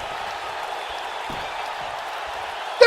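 Broad crowd noise from a wrestling arena audience at the Kiel during Starrcade 90, a steady wash of cheering and murmur with a sudden louder burst right at the end.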